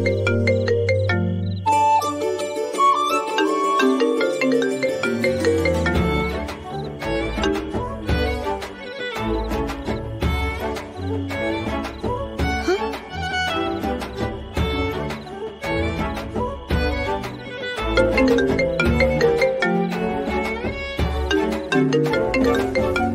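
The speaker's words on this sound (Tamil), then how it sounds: "எதுக்கு இத்தனை தடவை போன் பண்ற?" A mobile phone ringtone rings on and on as the calls keep coming in, its bright chiming melody repeating loudly and steadily, with no voices over it.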